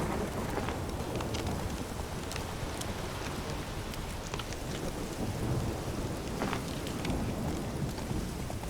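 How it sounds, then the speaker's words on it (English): Steady rain and thunderstorm in The Witcher 3 video game, a dense hiss of falling rain with low rolling rumbles of thunder underneath and scattered drop ticks, constant and moderately quiet throughout. "is this storm a random thing, or is it because of what I'm doing?"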